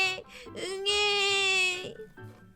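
A voice imitates a baby crying loudly in a Korean folk tale narration, with a wavering, drawn-out wail that rises, holds, then breaks into shorter sobs.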